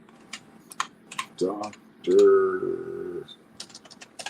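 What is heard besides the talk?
typing on a computer keyboard with one hand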